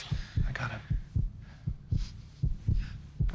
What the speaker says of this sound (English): he can hear her heartbeat